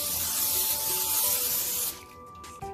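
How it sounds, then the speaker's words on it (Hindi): Cooking spray hisses steadily onto a baking dish for almost two seconds while scones are prepared, then cuts off, leaving quieter kitchen handling noises. "अब हम अपनी बेकिंग डिश लेंगे और उसके ऊपर कोई भी स्प्रे कर सकते हैं"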